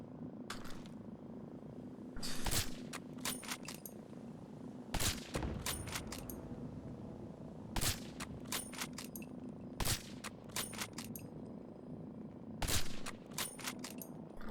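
Rifle gunfire in a modded Fallout 4 game, sharp single shots cracking out every couple of seconds over a steady droning game background, no talking during the shots.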